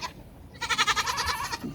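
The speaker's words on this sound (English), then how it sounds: "he walked up with this little goat that I've named Bambi" A small, skinny stray nanny goat in milk bleats once near the microphone, a wavering, pulsing cry lasting about a second after a short quiet start.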